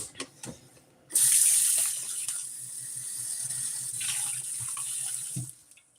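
Water runs from a tap into a glass with a sudden loud gush that eases into a steady stream, followed by a few soft knocks and clicks near the end.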